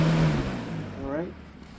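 A Lasko box fan, model 3733 from around 2000–01, winding down after being switched off, its low hum fading and falling in pitch over a couple of seconds, heard close up.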